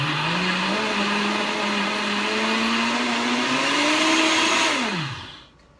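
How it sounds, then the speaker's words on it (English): A small Vitamix blender whirs loudly and steadily for about five seconds while blending chia jam, its motor pitch rising slightly before winding down and stopping, leaving near silence. "So just gonna blend this up. I have a little Vitamix guy here."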